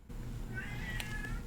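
A house cat gives a single drawn-out meow, close and fairly clear over a low background hum, lasting about a second.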